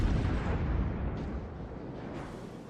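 Heavy naval gunfire and shell explosions from a World of Warships battle with the Graf Spee, a dense, loud, rumbling blast that fades slowly over a few seconds with low booming texture throughout.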